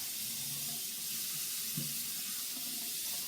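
A kitchen tap running over eggs to bring them to room temperature, a steady loud hiss of flowing water with a brief splash partway through, alone without voices.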